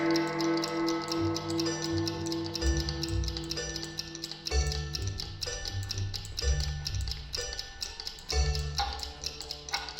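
A clock ticks steadily through a stage performance of Alice in Wonderland, its regular tick-tock running beneath layered musical accompaniment with sustained tones and low thumping beats.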